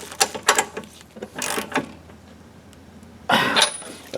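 A ratchet wrench snugging a new spark plug into a Briggs and Stratton flat-head engine, with loud, close bursts of rapid clicking separated by short pauses.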